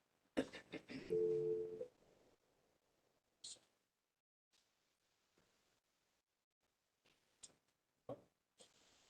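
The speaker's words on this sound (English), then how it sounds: "Sounds like someone's trying to redial in" Telephone redial tones on a conference call line: a short burst of tones at the start, then sparse, faint, isolated beeps and clicks separated by silence.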